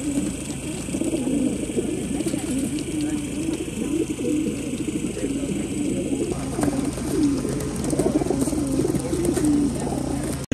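Racing pigeons gathered at a pigeon race, a dense chorus of many birds cooing continuously, loud and close, with a broadband background hiss and a voice talking over part of it.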